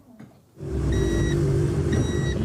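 A car fleeing police in a street chase in Pirituba, its engine surging from quiet to a loud, steady close roar, with faint beeping tones over it.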